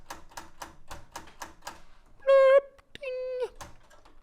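Quick rhythmic clacking of keys on a laptop keyboard, sounding like an old typewriter, with brief tonal electronic beeps between bursts of tapping; close and moderately loud.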